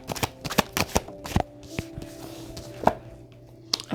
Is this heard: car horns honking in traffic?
no